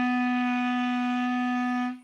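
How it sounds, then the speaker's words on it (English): A clarinet holds one steady C sharp, a pure sustained tone with rich overtones lasting about two seconds before fading out at the end. "Alright, and then I'll play that C sharp for you."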